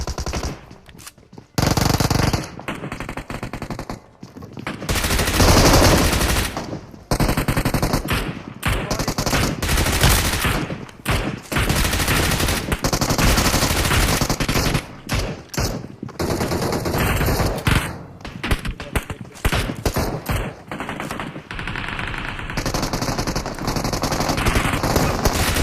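Rapid M416 automatic gunfire in PUBG, with long sustained bursts and short gaps over nearly half a minute, loud and dense, sometimes overlapping like several weapons firing, with no talking.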